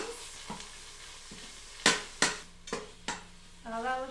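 Cooking meat being broken into small crumbs with a utensil inside an Instant Pot, a few sharp scraping knocks and taps over a faint sizzle, each one distinct and close, with a brief bubbling hiss at the end.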